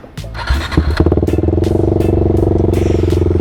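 Husqvarna Vitpilen 401 motorcycle with a Termignon exhaust starting up: a short cranking clatter, then the engine catches and settles into a loud, close, rapid idle thump.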